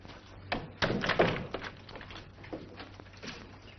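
A door closing with a solid thunk and a few follow-up knocks and rattles, fairly close, in an old 1941 film scene with room tone hum underneath.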